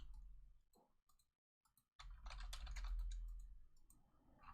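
Typing on a computer keyboard: scattered quiet clicks, then a brief silent gap, then a denser, busier run of key presses close to the microphone.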